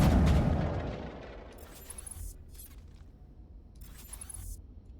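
Gunfire in Mass Effect 1 Legendary Edition: a loud heavy boom opens, decaying into rumbling battle noise with two sharper bursts of high-pitched shots later on.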